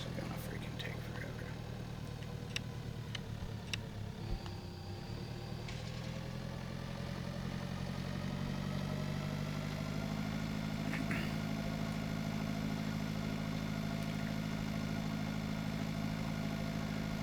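Tractor engine in a farming simulator game, a steady mid-pitched drone running continuously at an even level throughout, with faint clicks and small interface sounds over it.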